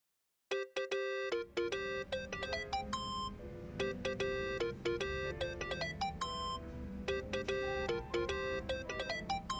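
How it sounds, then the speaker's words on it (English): A melodic electronic phone ringtone rings in Yakuza: Like a Dragon, its bright repeating chime phrases loud and continuous over a low game backdrop, with no talking. "Think that's your phone, man."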